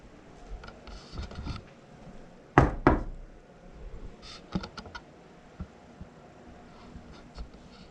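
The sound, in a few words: knocking on a door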